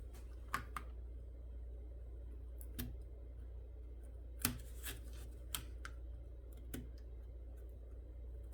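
Scissors snip out paper pieces in a quiet room, a few faint, sharp cuts and clicks spaced irregularly over a low steady hum.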